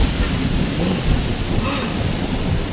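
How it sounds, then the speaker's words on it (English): Steady rain hiss with low rumbling of thunder rolling underneath, a continuous stormy wash of sound close by. "Can you hear the thunderstorm, Fernando?"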